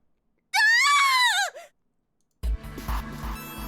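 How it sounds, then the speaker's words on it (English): Clover, a character in the Zero Escape game, lets out one loud, shrill scream lasting about a second. After a short silence, rumbling game noise follows. "Her scream nearly blew out Junpei's eardrums"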